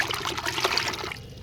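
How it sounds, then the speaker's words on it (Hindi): Water trickles and splashes steadily as it is poured into a bucket in a garden, a continuous pouring stream for about a second before tapering off. "तो पूरे बकेट को भर दो पानी से"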